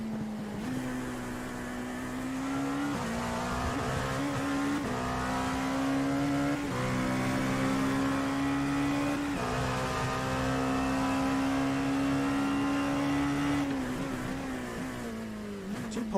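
Onboard engine of a sports car racing at Sebring in the KRL Sports Car Championship: a loud, steady droning whine that holds a high pitch, dips briefly on shifts, then drops at the end, with no talking.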